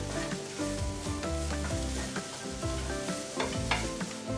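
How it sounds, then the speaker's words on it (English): Red pepper and grated carrot stirred in a frying pan, a steady sizzle with repeated scraping strokes of a utensil running throughout, close and fairly loud, with no talking. "Now we want to add the red pepper and the grated carrot and then stir that together for another 3 minutes."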